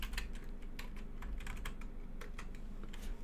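Someone types a link on a computer keyboard, a steady run of close, crisp key taps over a constant low background hum, with no talking.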